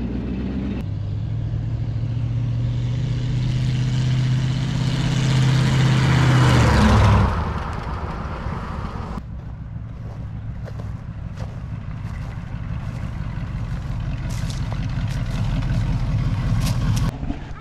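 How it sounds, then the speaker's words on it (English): A 34-year-parked Dodge Monaco barn find drives off, its engine droning loud and close, rising then dropping sharply as it shifts gears, settling into a steady rumble with wind and road noise. "Beautiful shifts, first, second, third gear."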